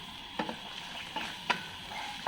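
Chili and garlic sautéing in a pan, a soft steady sizzle broken by a few light scrapes and taps of a utensil stirring, quiet and close.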